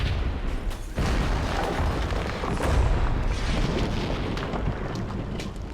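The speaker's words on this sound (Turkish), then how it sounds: "Ben ben de bir bombadan atayım." A bomb blast in the video game Max Payne 1: a sharp, heavy boom breaks in about one second along with low rumble, then a loud roaring wash of rumble and crackling debris carries on steadily to the end, with no voices.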